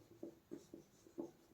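Pen or chalk writing out a linear equation, soft scratchy strokes in short separate bursts, about five or six marks in an uneven rhythm, faint and close.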